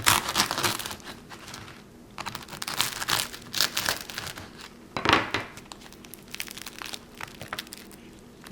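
A knife saws through a crusty loaf of homemade no-knead bread, with a close, dry crackle and crunch of crust coming in irregular bursts between short quiet gaps.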